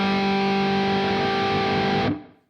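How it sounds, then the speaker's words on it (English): A distorted electric guitar's open G string rings out steadily with a thick, buzzing sustain, then is abruptly damped and fades away. "we're now going to hear the open G string ringing out"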